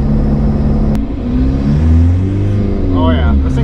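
A turbocharged car engine running 28 pounds of boost accelerates hard, its rising drone climbing steadily in pitch, loud and close, with a brief whistle near the end.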